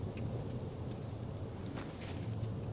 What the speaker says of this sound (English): oh God, the storm